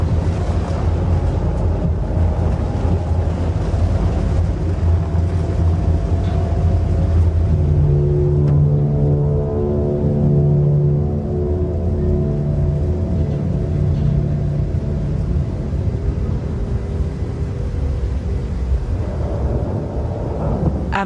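A nuclear icebreaker ship ploughs through Arctic ice, a loud, continuous deep rumble with droning engine tones that rise and shift, heard alone without voices.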